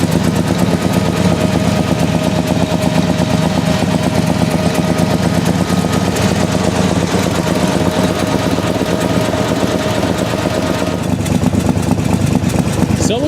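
A Morgan British sports car engine running steadily and loud, a rough, throbbing idle with a rapid pulsing texture that holds for the whole stretch, with a slight change near the end.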